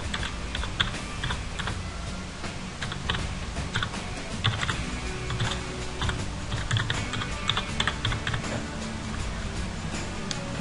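Steady, rapid clatter of keys on a computer keyboard as an email address is typed in, continuous close-up tapping with small irregular bursts and no voices.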